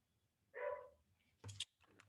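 A pet dog barks faintly in the background of a quiet room, one short bark followed by a couple of softer yips, distant and low in level.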